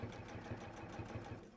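A sewing machine stitches binding onto a quilt in a steady, rapid mechanical rhythm of repeated needle strokes, close and fairly quiet, slowing slightly at the end with no talking.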